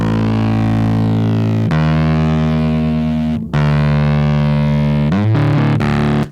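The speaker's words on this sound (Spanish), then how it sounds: "Y un bajo línea que tiene distorsión." A distorted bass line plays loud, sustained notes with a gritty, buzzing edge, changing pitch a few times with brief breaks between phrases.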